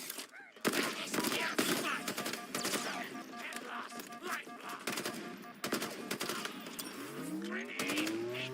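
Turret gunfire during a Mangler mythic quest in a video game, dense rapid bursts of shots over a roaring engine-like drone and whooshing effects, loud and continuous with brief gaps.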